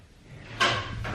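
Worn baby blue junkyard car door clunking, a latch click followed by a solid thump and a softer second knock, close and brief.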